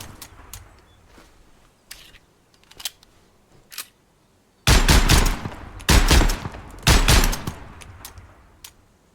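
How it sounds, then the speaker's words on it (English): Gunfire in GunSmith Simulator aimed at cinder blocks: a few faint, scattered clicks and shots, then three loud bursts of rapid automatic fire, each lasting about a second with short pauses between them, and no talk. "Let's shoot the cinder blocks."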